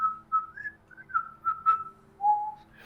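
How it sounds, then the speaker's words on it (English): Someone whistles a short, meandering little tune, a string of clear, near, wavering notes with brief pauses between phrases. "Can you, like, whistle me a little tune or something while I read this?"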